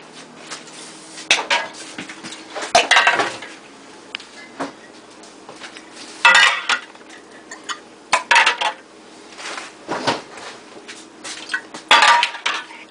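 Glass canning jars being loaded one by one into a pressure canner, sharp clinks and knocks of glass against metal in irregular bursts with quieter gaps between.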